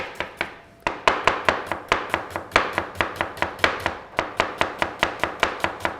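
A knife chops onion on a board in a fast, steady rhythm of crisp, loud thwacks, close up and continuous with no talking.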